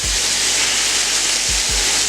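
Butter melting in a hot skillet alongside apples for apple cinnamon pork chops gives a steady, loud, broad sizzle that holds evenly throughout, with a few soft low thumps from the pan.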